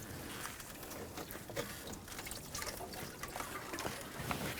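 Coolant trickles and drips from a removed engine pipe on an Audi A4 2.0L four-cylinder, a faint, continuous liquid patter with small irregular splashes close by.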